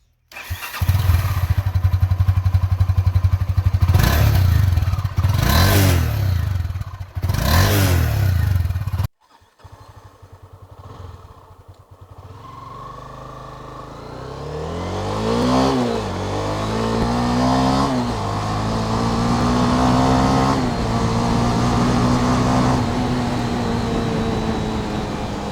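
A Honda CB300F motorcycle with about 17,000 km on it revs loudly in several rising and falling surges, then cuts out and fires up again, settling into a steady idle with a couple of lighter blips, close and alone.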